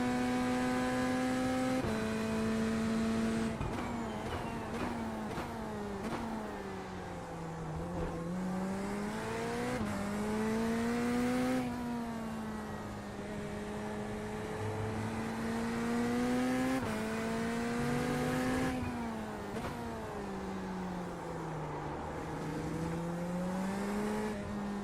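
Race car engines in the iRacing sim during an IMSA-style race at the Nurburgring, a continuous loud engine drone rising and falling through gear shifts, with several cars layered together for the whole stretch.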